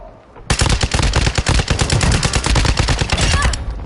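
Rapid automatic gunfire in a military shooter video game, a loud sustained burst of overlapping shots lasting about three seconds after a brief quiet start.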